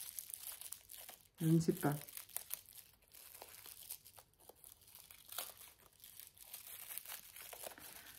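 A wrapped gift package being opened, with a loud burst of crinkling and tearing paper followed by softer rustling while someone talks quietly in French.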